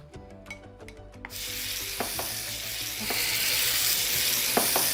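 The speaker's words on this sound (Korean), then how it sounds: "볶으면서 약간 졸여줍니다." Vegan bulgogi stir-fries and reduces with sesame oil in a pan. A few light utensil clinks come first, and then a steady sizzle swells and holds, broken by occasional scraping stirs.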